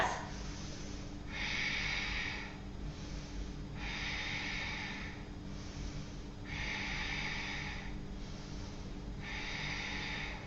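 Slow, steady yoga breathing during a forward fold in an Ashtanga Vinyasa class, with five long, even breath cycles alternating in a quiet room. Each breath is a soft, close, airy rush over a faint steady hum.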